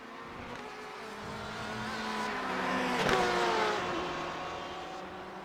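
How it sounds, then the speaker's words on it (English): Race cars in a GTE sportscar racing video game at Le Mans roar past at around 170 mph, a loud revving engine drone that swells and peaks mid-clip with a pitch drop as one passes, then eases off. "Everybody picking up speed once again, 170 miles per hour."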